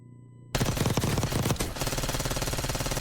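Compact 92 fire in Call of Duty Warzone: after a short quiet lead-in, a loud burst of rapid automatic shots starts abruptly and continues as dense sustained gunfire through the rest.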